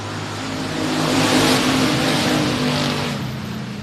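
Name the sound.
race cars starting a 3-lap race at speedway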